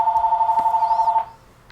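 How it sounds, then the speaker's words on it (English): A house phone rings with a steady warbling electronic trill, loud and close, for just over a second before cutting off. "I don't know who would call me on the house phone."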